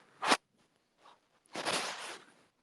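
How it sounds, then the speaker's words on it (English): A finger shuffles against a microphone in short bursts: a quick scratchy rub, a faint brush, then a longer rustling scrape, all close and dry with no voice. "My finger moving on the mic or something."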